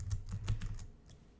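Typing on a computer keyboard alongside a mouse, a quick run of close, soft key clicks that thin out into a few sparse taps, with no talking.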